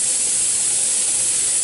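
Steam hisses steadily and loudly from a pressure canner set at ten pounds while Swiss chard is being canned, a continuous dense rush with no talk over it.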